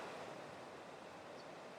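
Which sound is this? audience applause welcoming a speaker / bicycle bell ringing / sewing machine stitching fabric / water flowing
water flowing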